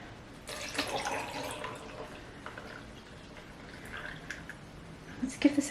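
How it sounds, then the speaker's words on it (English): Water poured into a cup while a drink is mixed, heard as a faint, short splashing trickle early on, followed by quiet handling noises and a few small taps. "And then I'm just gonna add my water."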